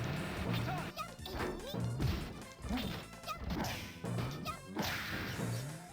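Heavy impacts and whooshing swipes from a fighting video game pound out in a dense, loud stream, with a meteor smash hit among the repeated crashes and thwacks.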